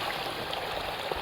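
A river flows beneath a wooden bridge in a rural village at the foot of Mount Sawal, its water rushing in a constant, close, full babble with no pauses.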